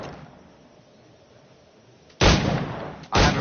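Two loud, close flintlock firearm shots in a pirate-era action game, each a sharp blast with a full, sustained roar, spaced about a second apart.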